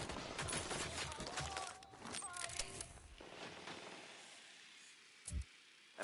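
Bursts of automatic gunfire in Ghost Recon Wildlands, dense rapid volleys crowding the first few seconds, then thinning to scattered shots and a lone late report.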